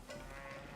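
A single soft cow moo from cattle at a ranch in Age of Empires IV, one short low call heard faintly and alone.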